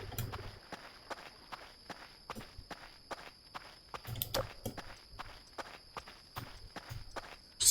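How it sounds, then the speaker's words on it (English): Heavy stomping footsteps thud in a steady, evenly spaced rhythm inside the horror game Voices of the Void, loud and close, with a few stronger impacts near the middle and no talking. "Something sounds like it's stomping around."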